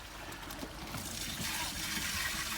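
Gray water drains from an 18-gallon RV tank through a sewer hose at a dump station, a steady, close rushing gurgle that continues without pause.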